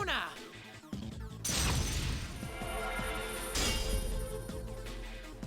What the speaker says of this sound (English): clashes with my own persona with the sound like glass smashing into glass